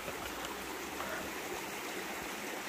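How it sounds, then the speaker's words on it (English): A small river on the Appalachian Trail rushes over rocks in a steady, close, broadband wash that holds constant throughout, with no voices. "Get across this little river"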